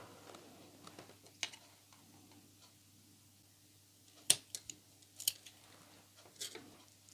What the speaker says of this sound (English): then I will cut off any excess twine